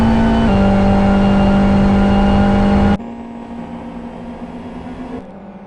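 A GT1 race car drops into pit lane with a steady engine drone that abruptly steps down in pitch and loudness, then settles into a quieter, lower hum.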